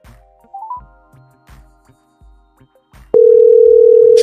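A phone call is placed: a series of soft keypad clicks and short tones, then a loud, steady dial tone comes in abruptly and holds to the end.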